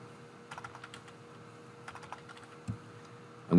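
Typing on a computer keyboard: scattered light clicks in short bursts, fairly close and quiet, ending with a louder clatter.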